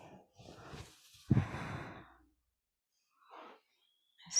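Slow deep breaths during a yoga forward fold, a soft inhale and a fuller, audible exhale close to the mic with quiet pauses between, then a faint breath returning at the end.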